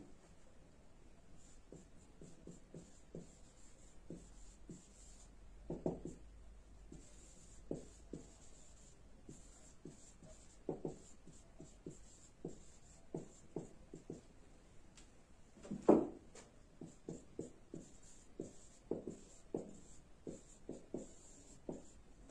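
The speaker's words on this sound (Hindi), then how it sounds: "एग्जाम्पल लिख लेते हैं" Pen scratching on paper while an example is handwritten, a steady run of short, soft strokes and taps with small pauses between them, close and faint, with no talking.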